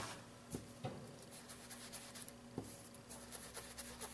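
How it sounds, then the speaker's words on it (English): A wedge of Stampin' Sponge dabs creamy caramel ink onto paper edges, giving soft, close scratchy rubs with a few light taps on the table and no talking. "I'm going to take some creamy caramel and Stampin' Sponge, which I have cut into a nice little 1/6 of a wedge. And I'm going to just sponge up the edges."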